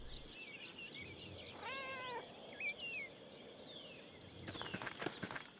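Cat being petted in the video game Pentiment, with a soft meow and short chirping mews over quiet crickets, ending in a light rhythmic ticking, faint and without talk.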